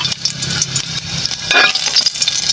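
Garlic fries in a hot pan with a loud, close, steady sizzle and hiss, swelling briefly midway as it is stirred.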